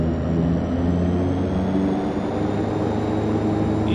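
A DHC-6 Twin Otter in the FSX flight simulator taxis onto the runway, with a steady loud turboprop drone and whine holding constant, and no talk.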